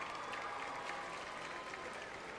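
A circus crowd applauds in a dense, steady wash of clapping that fills the whole moment at even loudness.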